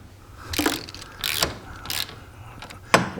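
A ratchet wrench with a 15 socket tightens a wheel bearing nut on a Can-Am Maverick X3, giving four short, close bursts of crisp clicking with brief pauses between them.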